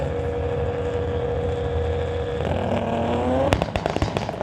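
Drag racing launch of a 1996 VW Golf and a 1972 Chevy at a street-legal event: a steady loud engine drone, then a rising rev and a burst of sharp crackling pops as the cars leave the line.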